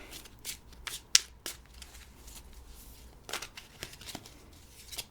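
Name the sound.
shuffling a deck of tarot cards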